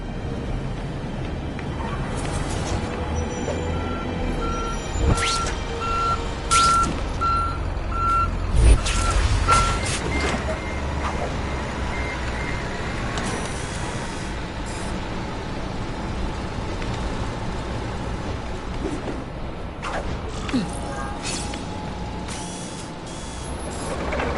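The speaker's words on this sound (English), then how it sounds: "The truck will be here soon!" In The Amazing Spider-Man 2 game, a truck backs up with a steady run of evenly spaced reversing beeps over loud rumbling engine, clanking mechanisms and an air-brake hiss, close and busy throughout.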